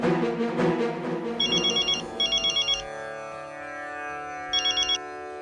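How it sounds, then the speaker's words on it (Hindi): A telephone ringtone trills in three short electronic bursts, loud and close, following a stretch of music at the start. "तू पहले मनु महाराज को फोन कर"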